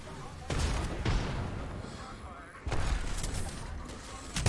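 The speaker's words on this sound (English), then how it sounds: "they're still throwing grenades" Grenade explosions in an Xbox video game, two sharp loud blasts about two seconds apart, each trailing into rumbling debris, with a third burst beginning at the end.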